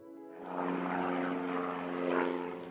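Small touring airplane propeller engine, a humming, droning tone that swells in after a brief quiet start and holds steady, fairly close and alone.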